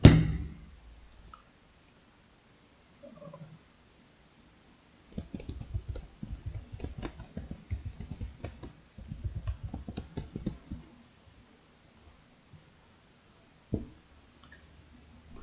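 Someone types a suggestion on a computer keyboard, giving close, quick bursts of clicky keystrokes in two runs separated by pauses, with a few isolated louder clicks around them.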